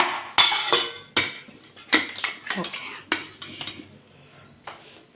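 Dishes, pots and cutlery clatter and clink close by in a home kitchen, with a series of sharp irregular knocks and scrapes, and a voice briefly speaks at one point.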